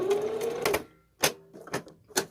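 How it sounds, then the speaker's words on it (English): A sewing machine runs a straight stitch while making a cupcake pincushion, a whirring run followed by short separate bursts of needle motion, close and fairly quiet. "And I'm just going to straight stitch."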